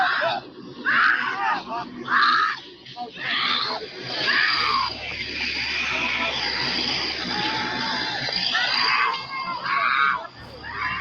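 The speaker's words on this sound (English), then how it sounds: "One lady, allegedly Brazy's mother, could be seen screaming in shock and repeating the phrase, "Lord, why?" over and over again" A woman screams in shock near a burning house, repeated anguished cries rising over a murmuring crowd and talk, loud and strained in several bursts.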